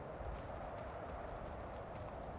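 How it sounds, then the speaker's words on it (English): Heavy footfalls of a Megatherium in ARK Survival Ascended, a repeated thudding stomp rhythm over a constant snowy ambient wash, fairly faint and without speech. "Yeah, I hear this big guy stomping around."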